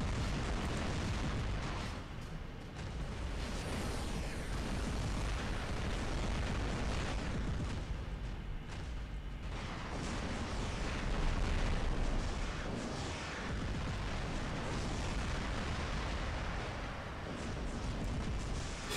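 Aphid missile explosions in the War Robots video game come as a dense, continuous barrage of booms and blasts, loud and sustained throughout with little letup.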